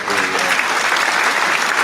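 An audience at a live coffee-and-conversation talk show breaks into sustained, dense applause, a steady close roar of clapping hands with no pause.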